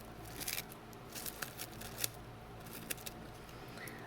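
Scissors cut small paper pieces for die piecing, giving a series of quick, close snips and rustles spread unevenly over a few seconds in a quiet room.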